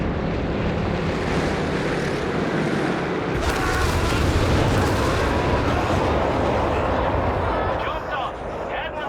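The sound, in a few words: off-map artillery strike in Company of Heroes 3 video game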